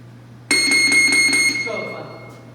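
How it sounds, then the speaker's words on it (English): A boxing round bell at a Heartbeat Boxing workout: one loud, bright metallic strike that rings on with a sustained tone, then slowly fades. "Ready when the bell rings?"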